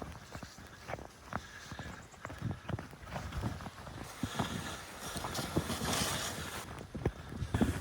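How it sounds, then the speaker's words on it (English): Toboggan loaded with gear dragged through snow in Algonquin winter woods, steady crunching footsteps and scraping runners close by, rhythmic and continuous, no voices. "pulling a toboggan full of gear in the snow."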